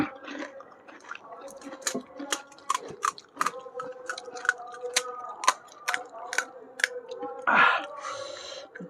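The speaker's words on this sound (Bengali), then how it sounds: "আমি অনেক দিন পর ফুচকা খাচ্ছি" Someone chews spicy puchka (pani puri) close to the mic, with crisp, wet crunches and sharp clicks repeating at an uneven rhythm, plus faint breathy sounds between bites.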